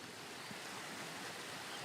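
A river flowing beside a bridge as it starts to freeze, a faint, steady broadband rush of moving water, continuous and even throughout with no voices.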